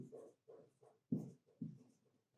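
Pen or pencil writing out a maths answer on paper, heard as several short scratchy strokes in close succession with brief pauses between them, fairly quiet and with no talk.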